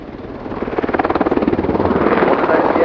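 Military attack helicopter flying at the RIAT 2019 air show, a loud steady rotor thump with a rapid pulsing beat that swells as it passes, with engine whine over it and no talk.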